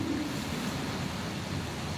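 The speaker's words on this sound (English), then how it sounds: "Oh, that's a good gust." A gust of wind during Hurricane Ida pours as a steady, loud, broadband rush that buffets the microphone without letup.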